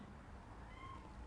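A pet cat lets out a single soft, drawn-out meow, faint and slightly distant against a quiet room hum.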